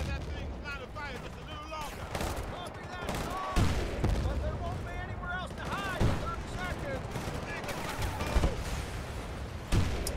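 Gunfire in the shooter game Battlefield: Bad Company 2 pops in repeated bursts and single sharp shots over a noisy battlefield backdrop, with a few heavier bangs mixed in, while a voice talks over it.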